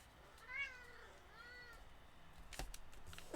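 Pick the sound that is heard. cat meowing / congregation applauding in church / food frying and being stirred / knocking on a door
cat meowing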